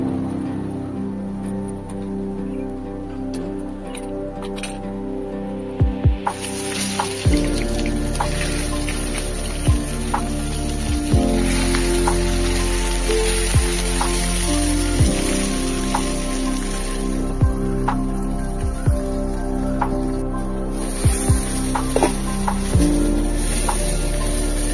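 Fish wrapped in sal leaves frying in hot oil in a wok, a steady crackling sizzle with scattered pops and occasional clanks, with no talking.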